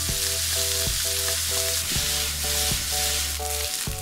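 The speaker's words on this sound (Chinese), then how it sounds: "再用锅里的底油爆香蒜末，下入洋葱，翻炒至变软变透明。" Minced garlic and onion sizzle steadily as they are stir-fried in hot oil in a wok, with a rhythmic music track playing prominently throughout.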